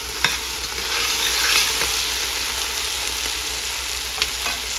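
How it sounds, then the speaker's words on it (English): Chopped garlic cloves hit a pot of frying vegan three-bean chili, giving a steady close sizzle with a few sharp spits and stirring scrapes throughout, no voices. "Now I'm going to add my garlic."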